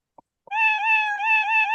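A cat in the Roblox video game meows when clicked, two tiny clicks followed by one sustained, clear, wavering electronic meow that holds steady to the end.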